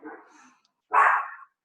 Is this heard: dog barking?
yes